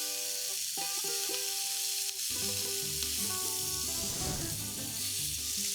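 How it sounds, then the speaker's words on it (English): Greek stuffed burgers sizzle on a grill with a constant soft hiss of fat and heat, heard under background music with sustained tones. "This is ready for the heat. The burgers will take around 4 or 5 minutes aside."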